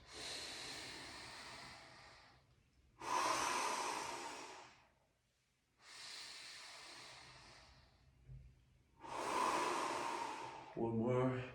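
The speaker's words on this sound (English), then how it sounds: "and then exhale, but from the belly, so I'm not dropping my chest" Slow, deep breaths from the belly during a neck stretch, long airy exhales and inhales repeating in a steady cycle, close and soft, with a brief vocal sound at the end.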